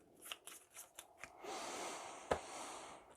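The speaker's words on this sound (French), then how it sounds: "Donc on mélange" A deck of Marvel Champions cards being shuffled by hand, a few quick riffling bursts followed by a longer sustained riffle and a sharp final snap, close and fairly quiet.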